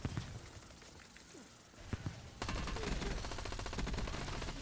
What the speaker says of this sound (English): That was a pretty exhilarating gunfight.